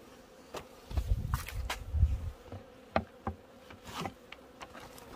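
Bees buzz outside the hive on a cold day in short, uneven bursts of close droning, with single insects passing by the microphone against quiet background noise.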